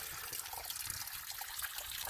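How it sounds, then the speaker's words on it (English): Mountain creek water rushing out of granite from several springs on the mountainside, a steady broadband wash of flowing water heard alone, with no talking. "it's got a fairly sized creek going because there's multiple sources for this water coming out of the side of the mountain"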